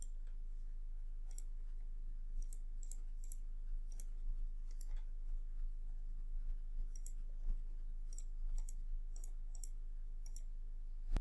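Soft mouse clicks sound one at a time at irregular intervals over a quiet background hum, as slicers are connected to pivot tables in an Excel dashboard.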